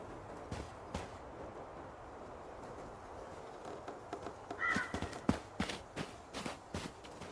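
Crows caw in a few scattered, fairly faint calls over a quiet outdoor bed with soft footstep-like thumps, in the video game Tell Me Why.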